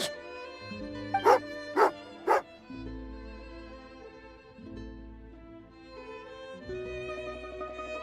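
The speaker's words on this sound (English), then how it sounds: "Good doggy! Good doggy!" Three loud, close dog barks in Genshin Impact ring out evenly spaced over game music, then the music carries on alone with no further barking.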